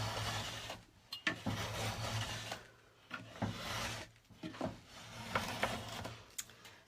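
A trimming blade scrapes along the edge of raw plywood to shave off excess edge banding, giving repeated close rasping strokes with short pauses between passes.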